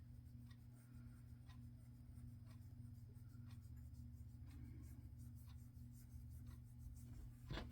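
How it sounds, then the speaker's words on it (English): Faint, repeated rubbing strokes of an ink dauber worked across a journal cover, soft scratchy swipes recurring over a low steady hum, with no talking. "I'm just taking my dauber and I'm just rubbing it right on here"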